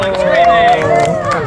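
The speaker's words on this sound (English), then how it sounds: "cheering, yelling," An audience at a NASA event in Huntsville cheers and yells in a loud, dense wash of voices that carries steadily through a short burst.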